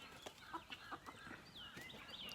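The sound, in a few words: chickens clucking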